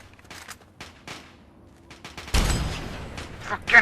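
Gunfire from the player's weapon in Fallout 3, a burst of shots entering partway through and continuing loudly to the end, with game sounds and speech before it.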